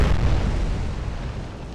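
A naval shell strikes a ship in an Atlantic Fleet battle between Bismarck, Hood and Prince of Wales, a loud, deep explosion that opens with a heavy boom and rumbles on while slowly fading.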